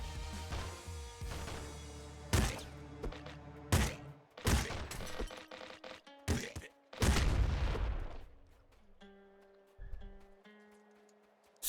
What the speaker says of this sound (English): the pop gun's got a really high rate of fire